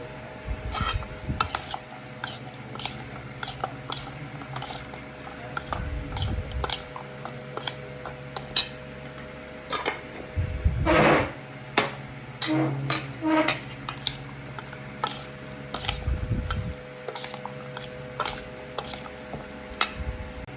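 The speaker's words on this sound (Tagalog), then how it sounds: "Ayan, nahalo ko na siya." A spoon rasps and clicks against a bowl while a mango and makopa fruit salad is stirred, with steady scraping and small taps, plus a few heavier low thumps scattered through.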